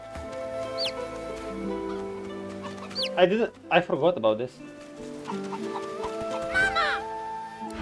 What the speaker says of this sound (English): Yo, is this chicken following me?